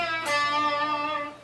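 A single electric guitar note bent up a half step on the 9th fret of the G string, blues style, struck sharply and sustaining with a bright, clear tone for over a second before fading, played alone.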